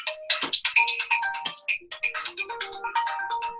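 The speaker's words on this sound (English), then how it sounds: "phone going off" A phone goes off with a melodic ringtone: a quick run of bright electronic notes in a rising and falling pattern, fairly close and with no talking.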